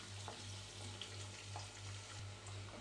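Onions cooking gently in a pan for masala vada pulusu, giving a soft, steady sizzle with a faint low hum beneath and occasional light ticks, quiet and close.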